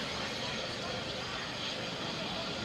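Aircraft passing overhead at an air display, a steady broadband roar of engine noise that holds at a constant level throughout.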